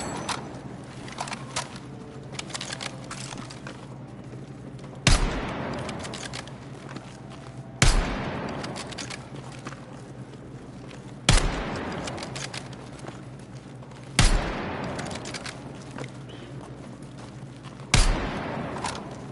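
Gunfire in the Battlefield 6 beta, a first-person shooter: sharp, loud shots land about every three seconds over a constant busy clatter of battle noise and footsteps, with no voices.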